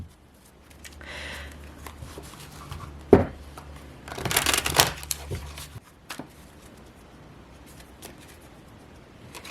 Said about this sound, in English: I'm going to pull some Rider-Waite tarot cards.